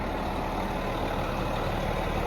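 A Clinchco fire engine idles nearby, a steady, loud low diesel rumble with no change in pace.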